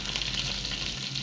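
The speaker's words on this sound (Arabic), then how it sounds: "هنبدأ نحمر الممبار" Stuffed Egyptian mumbar sausage fries in a pan with a steady, dense sizzle that crackles close and continuously, with no voices over it.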